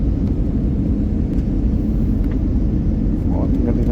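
Inside an airliner about to land on a flight to Kuwait, a loud, steady low cabin rumble of engines and airflow persists throughout, with faint voices murmuring beneath it.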